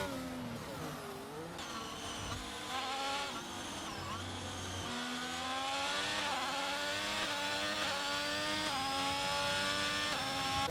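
F1 22 race cars scream past in a video game race at the French Grand Prix, a continuous high-pitched engine whine with shifting, sweeping tones that swells slightly louder toward the end, with no talking.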